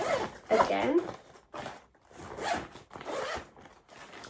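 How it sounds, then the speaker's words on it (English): A packing cube compartment of a cabin backpack being zipped shut in several short rasping pulls, close and clear, with a voice talking in between. "when you have filled it up again with your clothes, you can zip it closed again"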